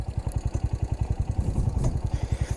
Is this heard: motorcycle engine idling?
yes